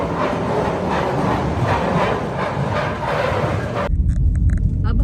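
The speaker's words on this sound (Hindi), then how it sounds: "वो ट्रेन चल गई है जी इनकी अभी इधर से" A train pulls away at a fairground, a steady broadband rumble of rolling wheels running continuously for several seconds before giving way to louder, closer crowd and ride noise.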